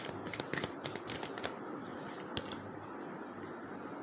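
Tarot cards are shuffled and drawn by hand in a quiet room, a run of soft riffling flicks and slaps followed by a single crisp snap, faint and close with no voices.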